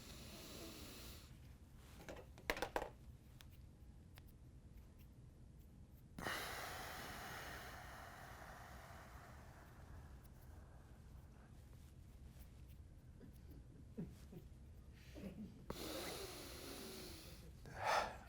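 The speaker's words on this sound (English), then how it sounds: "I just breathed in for 8 seconds, held it for 10 seconds, breathed out for 16, held it for 10 seconds with no air, then breathed in for 8" Slow, deliberate breathing: a long drawn inhale, a silent hold, then an extended exhale, with soft nasal snorts and breathy rustles near the microphone, alone and without talk.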